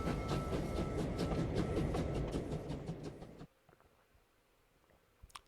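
A train in Clair Obscur: Expedition 33 rumbles loudly and steadily with rhythmic clacking for about three and a half seconds, then cuts off abruptly to near silence with a few faint ticks.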